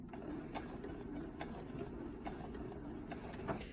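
A sewing machine stitches a quilted placemat, its steady mechanical whir broken by regular ticking pulses as it runs a few stitches forward and back-tacks, close and fairly quiet with no talking.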